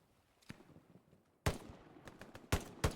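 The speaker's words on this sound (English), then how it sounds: "Breezy and Apple should be able to hear Becker shooting now." Bursts of gunfire from a player shooting in a 36v36 World War II shooter match on the Carentan day map: a faint isolated shot, then louder sharp reports and short volleys, some near and heavy, with no talk.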